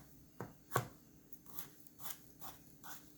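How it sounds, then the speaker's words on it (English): A knife slices through food on a cutting board during practical exam knife-skills practice, giving a sharp chop followed by a run of softer, evenly spaced cuts, quiet and close. "just start slicing it that way, and then go across from there"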